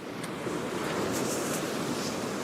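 Waves wash up and over a breakwater near Perch Rock Lighthouse in a loud, continuous surf roar mixed with wind buffeting the microphone.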